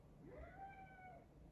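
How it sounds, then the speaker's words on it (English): A pet cat named Trixie meows once in a drawn-out, rising-then-falling call, close and fairly quiet, with no talk over it. "my cat is saying hello because she's very good at that"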